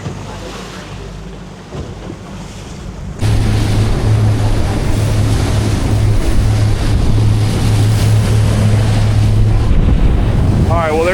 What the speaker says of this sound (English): there's that wind